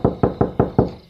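Five evenly spaced, loud knocks on a door, a firm hollow rapping repeated about every fifth of a second with no voices.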